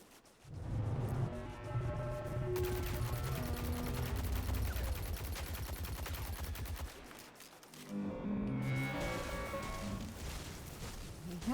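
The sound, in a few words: gunfire from a video game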